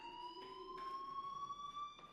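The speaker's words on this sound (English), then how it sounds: "Hey, do you hear that fire alarm?" Fire alarm in the game Life is Strange, a faint continuous electronic tone holding steady and slightly rising in pitch, with soft background noise and no talk.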